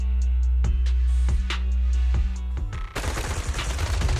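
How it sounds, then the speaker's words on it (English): Gunfire in the video game Zenless Zone Zero, a few sharp shots cracking over a low droning hum, then a dense, continuous burst of rapid fire that fills the rest, loud and close, with no talk. "Gunfire erupts like relentless downpour"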